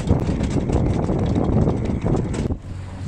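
Strong wind roars across a sailboat at sea, a loud, continuous buffeting rush on the microphone that drops away abruptly near the end.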